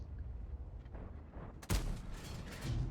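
A single sharp gunshot from a video game weapon cracks out loud and close, following soft muffled thumps and a low rumble.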